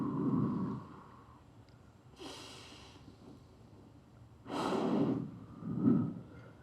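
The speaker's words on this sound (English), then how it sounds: "sit up straight and breathe in and breathe out with me" A seated audience at a women's summit breathes in and out together on cue, with several broad, airy group exhales and inhales rising and fading in slow succession, fairly close and unaccompanied by talk.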